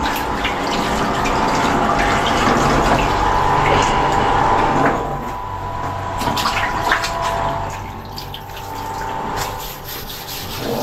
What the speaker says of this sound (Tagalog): Tubig yan.